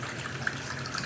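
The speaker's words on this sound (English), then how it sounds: "You see a nice little water flow there." Steady broadband rush of water from a BWE waterfall faucet, running continuously and close up at a moderate level, with no one talking.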